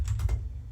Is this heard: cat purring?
no